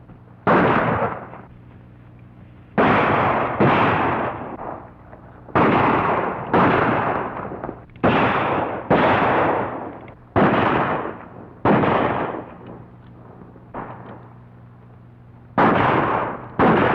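Gunshots from a 1937 western film, about a dozen loud sharp reports spaced irregularly a second or two apart, each with a short decaying tail over a steady low hum, no talk.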